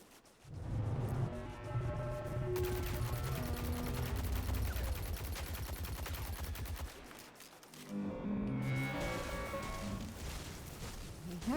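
Dense bursts of video game gunfire fill most of the stretch, rapid automatic fire layered with booms and a rattling texture, dropping briefly near the end before resuming loudly over a continuous game soundtrack.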